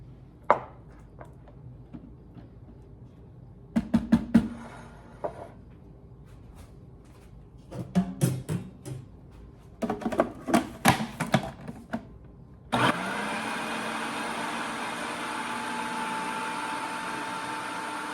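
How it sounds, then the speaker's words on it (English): A food processor whirs steadily and loudly into pesto butter of basil and confit garlic after a stretch of clattering, knocking prep sounds, its motor hum continuous to the end. "So now we're gonna get this into the food processor and make this into pesto butter."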